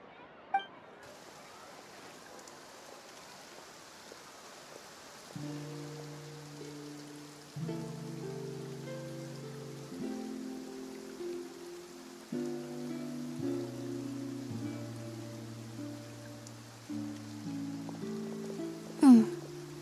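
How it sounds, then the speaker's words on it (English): Steady rain patters across a Genshin Impact game world in the Fontaine region, a soft broadband hiss running under game music throughout, with a brief louder splash near the end. "Looks like rain."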